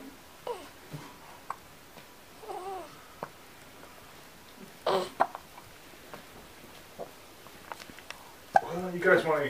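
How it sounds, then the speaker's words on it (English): A baby hiccups several times, short soft jolts at irregular intervals, mixed with infant babbling and adults chatting nearby. "You got the hiccups."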